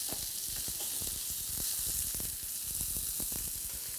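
A sirloin steak fries in a pan with a constant bright sizzle and dense crackling pops, close and steady throughout.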